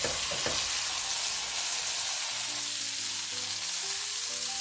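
A chicken cutlet fries in a pan for chicken francese, giving a steady, loud broadband sizzle that runs unbroken throughout with a few faint low tones underneath and no voices.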